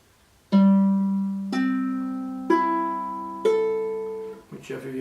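A ukulele fitted with a low G string, its four strings plucked one at a time to check tuning, starting on a deep low note; each tone rings out and fades, with brief faint noise near the end.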